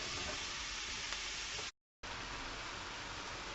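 Onions sizzle steadily in a hot pan, prepared for Southern cornbread dressing, with a dense, even frying hiss that cuts out briefly and resumes with no one talking.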